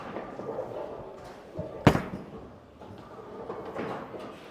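A single Ion Pro bowling ball thuds onto the lane just before the two-second mark in a noisy alley, a sharp broadband impact rising over a steady murmur of crowd and lane rumble.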